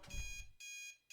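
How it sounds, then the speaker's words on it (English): Bedroom alarm clock from the video game Snoot Game, a quiet electronic beeping in short repeated pulses with gaps between them. "I turn off the alarm, rubbing the last segments of sleep from my eyes."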